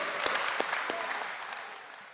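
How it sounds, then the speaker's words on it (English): An audience applauds steadily at a Samsung Galaxy S26 launch presentation, a dense wash of clapping from a large crowd with a few sharper claps standing out, holding level throughout. "the audience claps"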